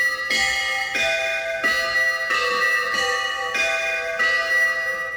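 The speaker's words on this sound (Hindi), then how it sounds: "सी वाला घंटा बजेगा।" A temple bell tone sounded from a C note on a Roland XPS-60 keyboard, ringing in five evenly spaced, sustained metallic strikes with bright overtones and no voices.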